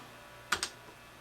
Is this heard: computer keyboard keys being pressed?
yes